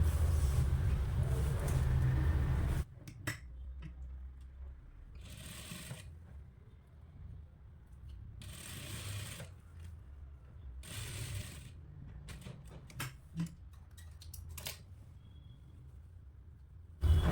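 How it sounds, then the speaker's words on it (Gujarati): A sewing machine runs single stitches along the border of a garment near a zip, in short mechanical bursts of a few seconds each, separated by quiet pauses. "હવે આપણે પહેલાં એક સિંગલ સિલાઈ મારવાની છે બોર્ડર ઉપર"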